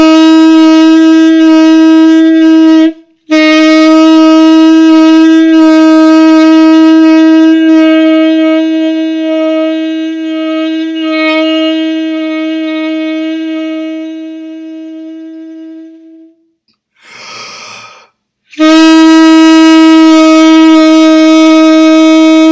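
A saxophone sounds a long sustained C sharp, one steady bright note that slowly fades over about sixteen seconds, followed by a brief breathy pause and then the same loud note starting again.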